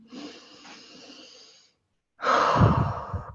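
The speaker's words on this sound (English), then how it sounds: "Keep deep breathing." Slow, deep breathing during a tapping exercise: soft, steady breaths for about a second and a half, a brief silence, then a louder, fuller breath close to the microphone.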